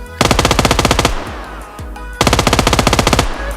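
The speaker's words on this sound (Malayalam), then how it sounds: "ഞാൻ ഈ ഗണ്ണ് കൊണ്ട് ഇപ്പോൾ ഫയർ ചെയ്യാൻ പോവാണ്." Rapid automatic bursts from a GS9 9mm SMG in the mobile shooter BGMI, loud and close: one sustained burst, a short pause, then a second long burst of evenly spaced shots.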